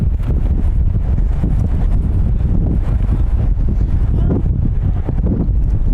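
Wind blowing across a soccer field during a stormy youth match: constant loud, low rumbling gusts buffeting the microphone, with no break from start to end.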